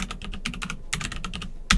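Rapid typing on a computer keyboard, a close, steady patter of key clicks with short pauses, ending on a louder keystroke.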